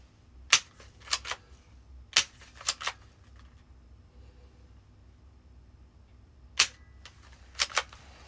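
A Nerf-style toy gun that ejects plastic shells fires several sharp snapping clicks, some spaced apart and others in quick pairs and triples, crisp and close against a quiet room.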